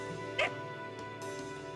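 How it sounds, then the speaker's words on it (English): A single short dog bark or yip in the mobile game Fate/Grand Order, sharp and close, standing out over a steady background music bed. "Oh, gross. There's a dog?"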